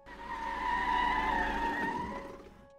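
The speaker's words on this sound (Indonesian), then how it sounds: "suara mobil meraung di jalan berbatu" A car roars along a rocky road, its tires skidding and engine rising to a loud peak, then fading as it moves off.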